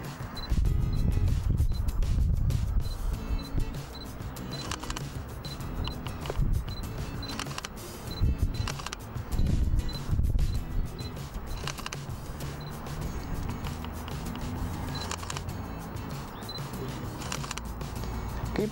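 A Sony A7R mirrorless camera fires its shutter again and again in a steady series of sharp, close clicks, with quiet autofocus whirring running underneath.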